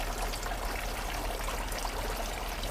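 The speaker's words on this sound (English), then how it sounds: "you will see my water feature here" A patio water feature trickles and splashes steadily, a close, continuous wash of running water with no voices.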